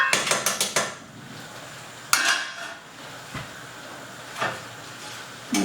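A metal pot and small strainer clatter on the stove while shrimp risotto cooks: a fast run of clinks, a sharp knock, then softer scattered taps and scrapes.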